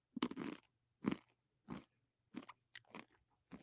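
Crunchy food chewed close to the mic in about six separate loud bites spread over a few seconds, each a sharp crackly burst with short silent gaps between.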